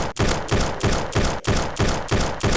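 Sustained rifle fire in the video game Block Strike comes as a dense, loud stream of rapid shots, broken by a few brief pauses between bursts.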